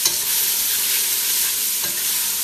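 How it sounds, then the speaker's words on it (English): Mushrooms, onions and celery with spices sizzle steadily in a pot, with a spoon scraping through them in a continuous close stir and no voices. "Let's throw in those mushrooms and give it a stir."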